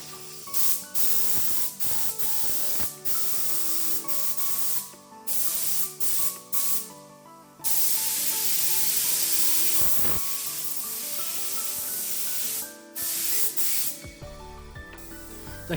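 A compressor-driven spray gun sprays shellac onto a wooden piece in repeated hissing bursts, some short and some longer, close and loud, with quiet gaps and faint background music between passes.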